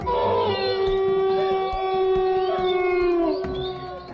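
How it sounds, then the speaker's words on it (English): Wolves and other animals howl in the woods at night, several long overlapping howls rising and falling together, loud and continuous, with other animal cries mixed in beneath the chorus. "With the wolves and other animals going crazy"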